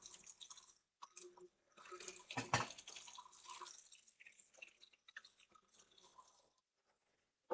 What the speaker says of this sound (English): So rinsing some stuff.